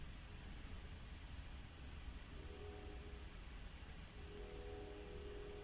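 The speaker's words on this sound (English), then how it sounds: "while the train goes by in the background" A train passing in the background, a steady, faint, broad rumble and hiss that holds throughout with a faint tonal whine near the end, and no talking.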